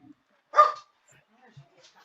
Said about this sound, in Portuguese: tenho que abrir a porta porque a dona Julieta tá latindo